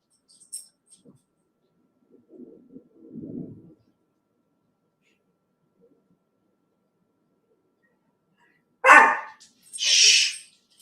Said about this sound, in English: The dog is going crazy